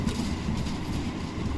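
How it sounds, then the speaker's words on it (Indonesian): Inside an Argo Bromo Anggrek executive train carriage, a low rumbling roar jolts and thumps unevenly as the wheels pass over rough rail track. "kalau kayak gini aja jalan relnya kurang bagus itu maka akan gotok-gotok nih"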